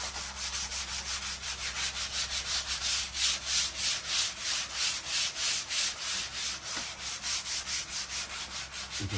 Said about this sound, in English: you just want to sand very lightly, nothing over the top